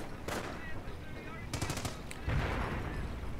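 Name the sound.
machine gun fire in a video game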